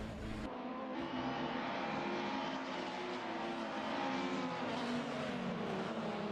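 Touring race cars at Road Atlanta in a BTCC round, including a Toyota, drone steadily through a tight pack, with a continuous, fairly faint engine whine and overlapping tones that shift slowly in pitch.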